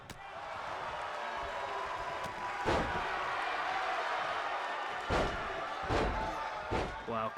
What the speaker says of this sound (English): Cactus slamming the back of the head of Bruiser Brody into the mat